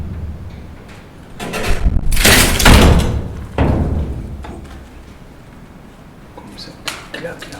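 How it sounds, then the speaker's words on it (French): A door slammed shut during a paranormal investigation in a children's care home, heard as a loud, broad whoosh and heavy thud near the middle, followed by smaller knocks and rattles, close by, with people talking around it. "Comme ça, tu claques la porte."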